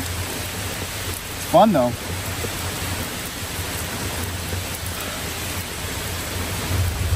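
Heavy rain drums steadily on a car during a car-camping trip in a wild thunderstorm, a constant dense hiss with low rumbling underneath, while a person speaks briefly.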